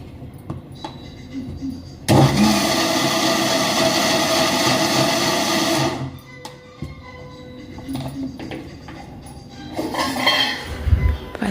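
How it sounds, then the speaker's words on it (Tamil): A mixer grinder runs on dosa batter, a loud whirring roar lasting about four seconds before cutting off, followed by softer clinks and handling of the jar. "First batch அரைச்சாச்சுங்க."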